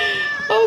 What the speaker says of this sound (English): Wait, Cat is going crazy